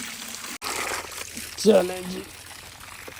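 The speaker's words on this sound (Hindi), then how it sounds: "तो इनको अभी पानी डालते हैं" Water poured from a bucket onto young fruit plants and a lemon sapling in garden beds, a short splashing gush in the middle under a voice speaking.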